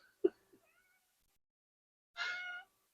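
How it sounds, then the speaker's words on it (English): A pet cat at its owner's feet gives a single clear, drawn-out meow, preceded by a couple of faint soft sounds, in an otherwise quiet room. "My kitty's now at my feet, rubbing up against my legs, saying, Mom, Mom"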